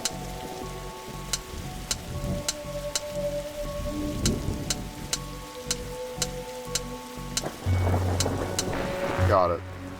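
Rainstorm in The Darkside Detective game: a steady wash of rain with low thunder rumbles and periodic sharp ticks, ending in a louder burst of rumble.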